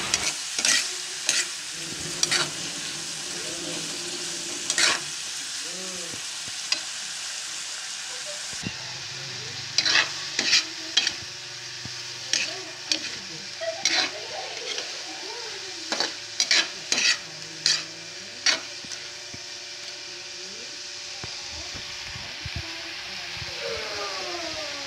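Crab being stirred in a sizzling pan without broth, cooking until red and releasing its juices; steady frying hiss with repeated scraping clacks of the spoon against the pan, close and fairly loud throughout.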